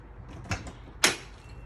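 An RV front entry door on a Wolfpack 365pack16 toy hauler is opened. There are two short thumps followed by one louder, sharper latch-and-swing noise, all close by.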